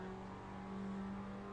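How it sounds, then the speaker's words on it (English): F1 2010 car in the Assetto Corsa sim racing game at Silverstone, a steady buzzing engine drone with a shift in pitch as it downshifts and engine braking takes over, loud and continuous with no voices. "Downshifted there, it's engine braking kicking in"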